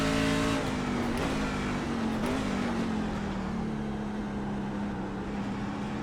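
A race car in a racing video game downshifts under engine braking, its engine note loud and constant, dropping slowly in pitch, with brief blips at each gear change and no voices over it.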